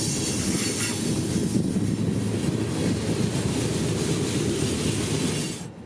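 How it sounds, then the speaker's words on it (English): Southbound freight train M606 rolls past near Waycross-bound Georgia trackside, a loud continuous rumble of wheels and cars with some squeal, fading at the very end. "this is M606, our surprise southbound freight heading towards, you guessed it, Waycross, Georgia"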